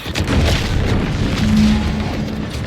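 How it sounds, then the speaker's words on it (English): A loud, sustained boom of an explosion in the video game The Outer Worlds 2, a deep rumbling blast that fills nearly three seconds on its own with no talk. "What's that? An explosion?"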